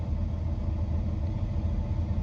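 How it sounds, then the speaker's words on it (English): A semi truck's engine idles steadily while warming up, giving a continuous low rumble that stays close and even throughout, with no talk over it. "We're letting the truck warm up."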